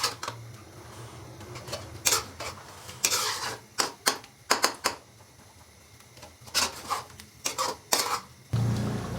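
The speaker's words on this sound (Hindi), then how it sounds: "बड़े वाले चम्मच के साथ मैंने जो टमाटर थे उनको अच्छे से मैश कर लिया है" A big spoon mashing peeled tomatoes in a pot for chicken karahi, giving a string of close, irregular scraping and clinking strokes with brief pauses between them.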